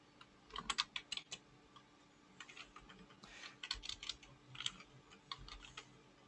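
Rapid keystrokes on a computer keyboard while writing a console write line in C# code, coming in quick clustered bursts with short pauses, close and moderately quiet with no talking.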